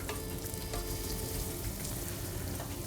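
Onion and purple garlic sauté in a hot pan with a dense, continuous sizzle and crackle, close and steady throughout, with no voices.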